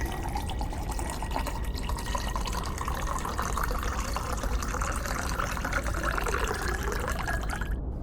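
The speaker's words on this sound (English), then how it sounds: "You just poured a bottle of beer into the coolant system." A bottle of beer glugs and pours steadily into a Thunderbolt battlemech's coolant system, a continuous close splashing liquid rush lasting several seconds without a break, with no talking over it.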